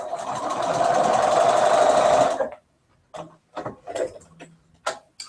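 Sewing machine stitching in a home fiber-craft setting, a steady rapid whir for a couple of seconds that stops abruptly, followed by scattered clicks and small handling taps.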